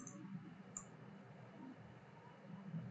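Faint computer mouse clicks during Blender modeling work, two quick sharp clicks near the start over a quiet room hum.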